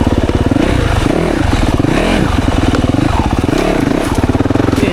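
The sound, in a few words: Yamaha YZ 450FX dirt bike riding through woods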